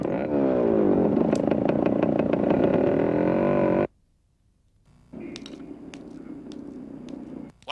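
A motorcycle engine runs loud and steady with a droning, revving tone, then cuts out abruptly into near silence before a lower, rougher engine-like rumble returns.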